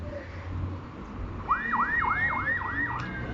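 A police car siren wails during a street chase, a rising-and-falling yelp cycling several times at moderate distance over city traffic rumble.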